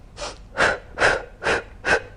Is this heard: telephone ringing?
no